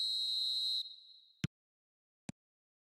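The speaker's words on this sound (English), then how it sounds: "There's the whistle," Referee's whistle in a football video game: one long, shrill blast that fades out, followed by two short, dull thuds in otherwise near silence.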